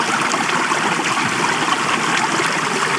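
Cold mountain stream water in the French Alps rushes steadily while bottles are filled, a continuous close, full hiss and gurgle with no break.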